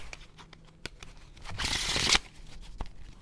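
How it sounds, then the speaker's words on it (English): A deck of tarot cards is riffled in one brisk shuffle, a dense papery rush lasting about half a second amid a few soft handling taps and clicks, close and moderately quiet. "Okay, one more shuffle."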